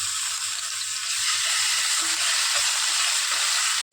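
Ginger paste sizzles in hot oil in a pan, a dense, steady frying hiss up close that runs without a break until it cuts off abruptly at the end.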